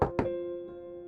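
Two quick knocks rap on a toilet stall door, sharp and close, followed by a lingering ringing tone and a faint third tap near the end.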